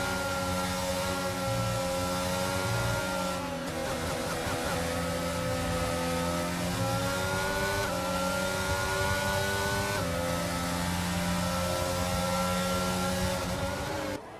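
A Ferrari race car engine in a racing video game roars continuously and loud, with steady high harmonic whine and shifting revs, sustained engine drone throughout without a break.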